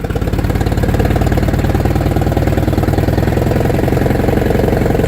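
A 1959 International Harvester B275 tractor engine runs steadily up close, a loud, even chugging idle with a rapid regular knock and low mechanical rumble throughout.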